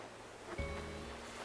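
Ocean waves wash steadily along a shore in Animal Crossing New Horizons, a soft continuous surf with one brief swell, with no talk over it.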